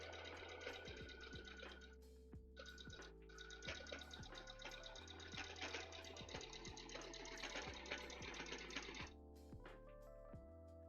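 A sewing machine stitches cosplay fabric for a Warframe Infested Daughter costume, its motor humming in steady bursts with brief pauses between runs, close and fairly loud, with music playing underneath.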